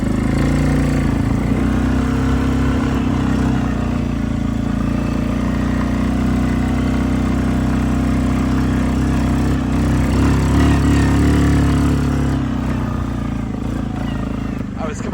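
A Suzuki King Quad 750 ATV engine drones loud and close as it rides through woods and a field, a steady mid-pitched hum with slight rises in revs. Someone talks over it throughout.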